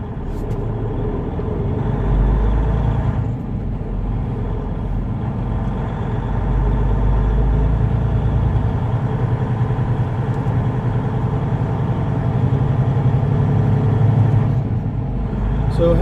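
A semi truck pulls out of the Iowa 80 truck stop, its diesel engine a steady low rumble heard from inside the cab, with faint background noise throughout.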